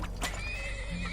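A horse in the video game Turmoil gives a single clear whinny, a rising then wavering neigh heard alone at moderate volume against a steady game background.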